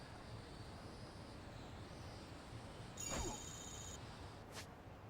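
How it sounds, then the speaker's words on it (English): A short burst of phone notification tones chimes over a steady background hum during a Lost Judgment gameplay session, followed by a second faint ping a moment later. "I was getting a bunch of notifications"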